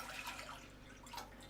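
Water poured steadily for cooking black sugar tapioca pearls, a faint continuous splashing stream at low level, close but quiet.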